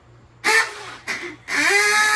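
A man imitates a duck call with his voice on a comedy club stage, three loud nasal quacking honks in quick succession, the last drawn out, over a low background hum.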